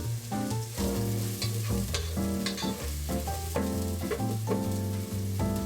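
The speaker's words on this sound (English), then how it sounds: "And I'll saute these for about a minute or so on low to medium heat" Roughly chopped onions sauté in a pan over low to medium heat, a soft continuous sizzle with stirring, partly covered by upbeat background music.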